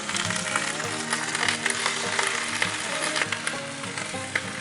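Pork chops sizzle hard in a Stargazer cast iron skillet, a loud, dense, continuous crackling fry with small pops and faint clinks of utensils. No one speaks.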